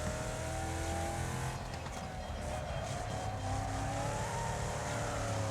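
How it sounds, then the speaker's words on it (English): A car's gearbox struggles in a video game, heard as a continuous, loud engine drone with whining tones that slowly rise and fall throughout. "Yeah, that gearbox is struggling."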